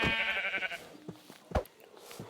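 Minecraft sheep bleating once, a short nasal wavering bleat at the start, followed by a few soft game thuds and clicks.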